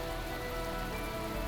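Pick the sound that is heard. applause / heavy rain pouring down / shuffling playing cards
heavy rain pouring down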